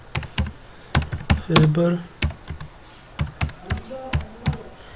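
Rapid clacking keystrokes on a computer keyboard in irregular bursts, close by, while someone speaks briefly partway through.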